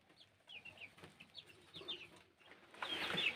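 Chickens clucking inside a chicken house, a string of short chirpy calls from several birds at close range, quiet at first and then swelling into busier, louder flock noise.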